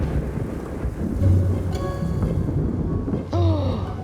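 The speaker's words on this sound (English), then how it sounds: "Thunder." Thunder rolls from a storm over an island, low rumbling swells rising twice over steady rain-like noise, with a couple of brief higher sounds cutting in, fairly loud and near.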